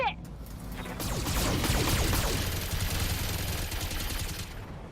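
BattleTech mech weapons firing a dense, sustained volley of loud crackling shots and impacts that rumble on for several seconds without pause.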